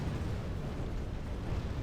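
Catapult and trebuchet stones pounding a castle wall in a Westeros Total War siege, a continuous rumbling roar of distant impacts and crumbling masonry without distinct breaks.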